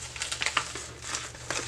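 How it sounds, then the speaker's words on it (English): Folded jeans pushed into a thin plastic bag for shipping, producing close, steady crinkling and rustling in a few quick bursts with no talking. "fold it in half and then fold it in thirds. So it looks like that, and you stick it in a plastic bag"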